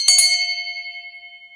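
A small brass hand bell gives a couple of quick strikes, then a bright metallic ring with clear sustained tones that fades slowly over more than a second, close and fairly loud with no talking.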